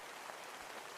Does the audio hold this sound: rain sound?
yes